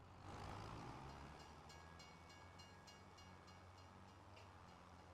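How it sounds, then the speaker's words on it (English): A train rolls past in a farming video game on the Goldcrest Valley map, a low steady rumble of wheels and cars with faint rhythmic clacking, quiet and continuous, no talking. "Oh, it comes a train now."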